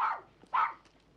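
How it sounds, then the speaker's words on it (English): A terrier named Bobby barks twice in quick succession, close and fairly loud, with a short gap between the sharp yelps. "If they're disturbed by all this barking, you'll stop that dog's noise or I'll send for the police."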